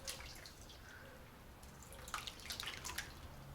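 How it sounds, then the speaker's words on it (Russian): Whey dripping from homemade curd cheese in a home kitchen, faint scattered drips over a low background hiss, growing a little busier toward the end. "Вот мой будущий творог, сейчас он здесь течет"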